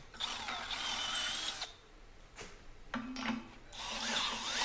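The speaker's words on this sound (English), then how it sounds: "use the step drill bit to just sort of embiggen them a little bit until my rivet nut fits in the hole" An older Milwaukee 12-volt cordless drill runs a step drill bit through metal to enlarge holes for rivet nuts, whining in several close, loud bursts separated by short pauses.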